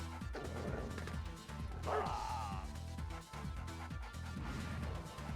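Dogs barking and attacking in the strategy game Red Alert 2, with repeated sharp barks and yips over a dense backdrop of gunfire and battle effects, loud and close throughout.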